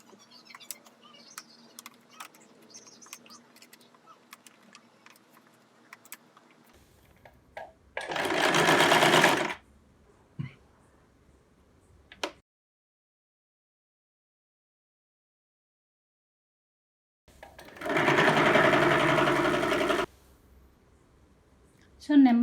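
A sewing machine stitches an apron made from an old kurti in two short, loud bursts separated by long quiet stretches, with soft handling clicks and fabric rustling in between.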